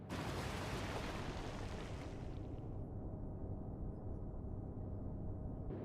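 Naval guns firing in the World War II naval game Atlantic Fleet, a loud continuous rumbling roar of blasts that fills the whole clip, its bright crack fading after a couple of seconds into a deep low rumble.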